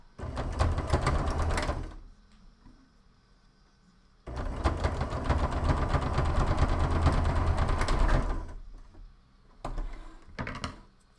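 A sewing machine stitching a plushie runs in steady, rapid bursts: a short run at the start, a long continuous stretch of about four seconds in the middle, then two brief spurts, close and fairly loud with quiet pauses between.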